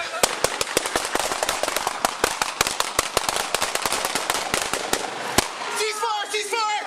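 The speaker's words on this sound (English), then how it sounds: "Shots fired, shots fired, shots fired." A long volley of gunshots during a police hostage standoff, dozens of sharp, loud cracks fired in rapid irregular succession, ending abruptly as a voice shouts over the fading noise.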